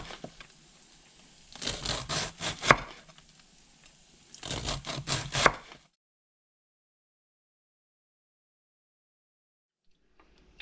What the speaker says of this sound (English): you want to cut it into chunks that are manageable, and you slice the cabbage up